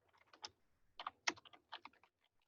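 Quiet keystrokes on a computer keyboard come in short irregular bursts, faint and close, with no other sound between them.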